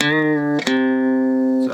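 A single twangy string on a three-string cigar box guitar, plucked and bent up at the 7th fret and sustained, then picked again and held, a clear bright tone ringing alone up close.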